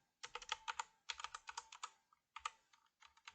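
Keys on a computer keyboard are pressed in quick bursts of crisp clicks, separated by short pauses, close and clear with no voice over them.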